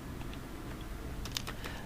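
Computer keyboard typing while entering a search term during a web design tutorial, a few soft, close keystrokes that are faint at first and then cluster into a quick burst near the end.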